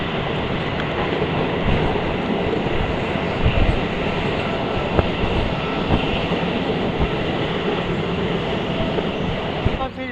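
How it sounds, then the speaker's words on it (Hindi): A MEMU passenger train rolls steadily along the rails, heard from on board as a continuous rumbling roar with faint rhythmic clicks of wheels over rail joints, some faint voices underneath. "फिर से चल पड़ी है हमारी ट्रेन"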